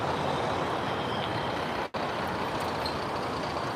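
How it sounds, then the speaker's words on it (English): A city bus on a Moscow street along the Sadovoe ring, steady broadband engine and traffic roar close by, with a brief dropout midway. "This is our bus."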